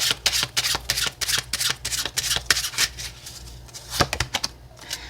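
Oracle cards being shuffled in a quick run of crisp, papery riffles and flicks, fairly close and steady, with no talking over it.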